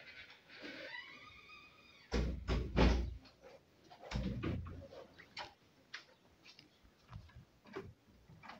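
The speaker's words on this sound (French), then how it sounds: "Tu ouvres doucement la porte." A door is eased open slowly, its hinge giving a short rising creak, followed by a few heavy bumps and scattered light clicks and taps in a quiet room.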